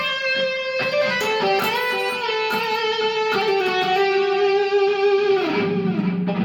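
Electric guitar with distortion plays a sustained note bent upward on the 13th fret of the B string in an E minor solo, the pitch rising slowly before dropping near the end, loud and solo.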